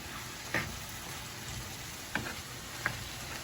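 Tomatoes, onions and garlic stirred in a pan: a soft continuous sizzle with a few faint scraping clicks from the stirring spoon, quiet and close, with no talking.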